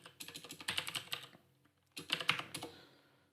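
Someone types a command on a computer keyboard in two quick bursts of close, crisp keystrokes with a short pause between them. No voice is heard.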